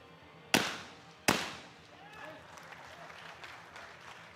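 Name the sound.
shotgun shots at a skeet shooting final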